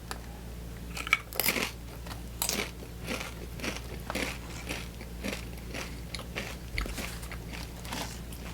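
Crunchy ghost pepper chips being bitten and chewed close to the mic, a steady series of sharp crisp crunches spaced about a second apart, fairly quiet with no talking.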